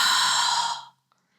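A single open-mouthed breathy exhale, like fogging glass, close and airy, fading out after under a second into silence.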